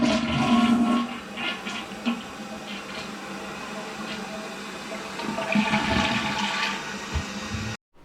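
A small chemical-type toilet aboard a Sukhoi fighter flushes in one sustained rushing, gurgling wash of water that lasts about eight seconds, then cuts off abruptly.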